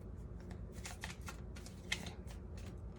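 A deck of tarot cards being shuffled by hand, close up, giving a steady run of papery riffles and flicks with repeated bursts and one sharper snap near the middle, no talking.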